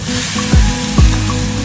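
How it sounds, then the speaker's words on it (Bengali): Turmeric and cumin powder paste sizzles steadily in a pan, with two brief scraping strokes of a spoon stirring it partway through. "মশলাটা যখন একটু ভাজা ভাজা হয়ে আসবে"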